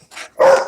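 A dog gives a quick pair of close, sharp barks, the second louder and longer, with no talk over them.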